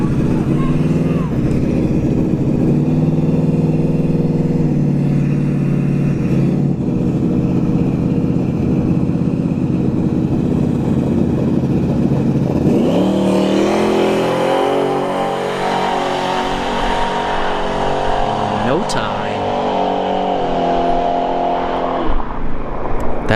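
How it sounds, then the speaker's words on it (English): A big-wheel G-body car making a drag racing pass at a test-and-tune session at ShowTime Dragstrip. A loud engine drone swells into a rising roar midway, with a commentator talking over it. "That's a nice pass there for the big wheel G-body"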